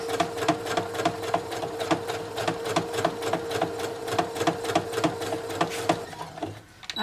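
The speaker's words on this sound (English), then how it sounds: "when you're doing machine quilting" A sewing machine stitches through quilt layers in a fast, even run of mechanical clicks and whirring, close and steady, slowing and stopping at the end.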